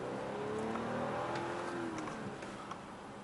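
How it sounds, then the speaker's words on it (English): A 2018 Audi A8 55 TFSI drives on a test run, its engine a steady, moderately loud hum with slowly shifting pitch as it accelerates, accompanied by continuous road and tire noise. "Now the test drive of the Audi A8 55 TFSI"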